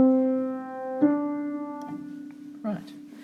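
One piano note sustains, then a second note a whole tone away is struck and rings on, with faint knocks and handling sounds late in the clip.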